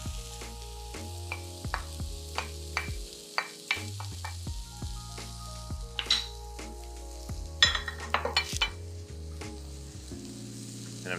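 Shrimp stir fry sizzling in a pan as rice is added and mixed in, a steady close sizzle broken by clinks and scrapes of a utensil against the pan, with no speech.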